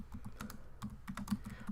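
Rapid clicking of keys on a computer keyboard while typing a note, a brisk irregular patter of light taps, close up and fairly quiet, no voices.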